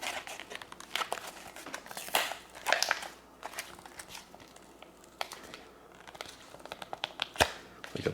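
Plastic packaging around a credit card knife being torn and crinkled open, a steady run of close crackling, ripping and rustling bursts with a few sharper snaps, no speech.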